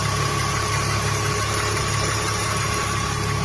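A car engine idles steadily and close by in a workshop unit, a constant mid-pitched rumble with faint vibration and no speech, running continuously throughout.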